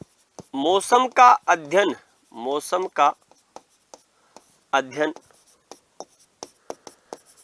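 Marker or chalk strokes on a board during a classroom lecture, short scratchy taps and scribbles between and after a man's speech.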